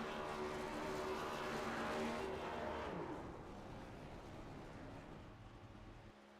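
Race car engine in a stock-car racing video game, roaring along the front straightaway at Talladega: a loud, sustained, buzzing drone that eases slightly in volume midway and holds steady to the end.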